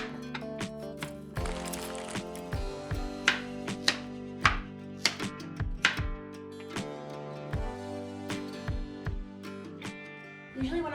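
Carrots being chopped on a board, a run of close knife taps in an uneven rhythm beneath a steady tonal soul-music background, with no voices.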